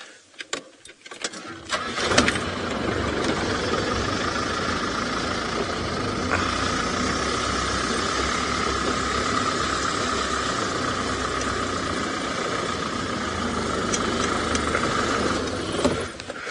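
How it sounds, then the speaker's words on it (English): A safari vehicle's engine starts on an evening game drive and idles and runs steadily with a constant droning rumble while it repositions, close and continuous for the whole stretch. "Let me just reposition the vehicle again."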